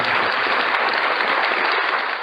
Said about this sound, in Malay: So kita bagi tepuk tangan sikit.